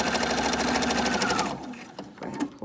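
A sewing machine stitches a fabric Bible cover, running in a fast steady whir for about a second and a half, then stopping, followed by a few soft handling clicks.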